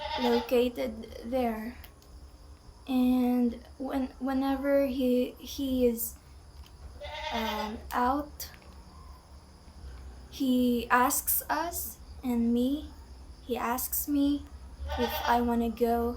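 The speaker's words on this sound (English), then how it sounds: "That's the sound of the goat that my father just bought" A goat newly bought a few days earlier bleats several times outdoors at moderate distance, its calls alternating with someone talking nearby, with crickets or insects chirping steadily underneath.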